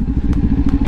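Motorcycle shifting up to third gear, a loud close engine rumble with a rapid chugging pulse and faint mechanical clicks during the shift.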